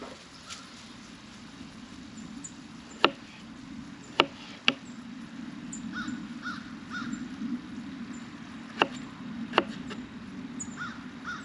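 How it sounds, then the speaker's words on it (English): Small potatoes are chopped with a knife on a board while making a Spanish tortilla de patatas, giving a few sharp, isolated thuds spaced irregularly over a steady low kitchen hum. "these little potatoes, they're kind of a pain to chop"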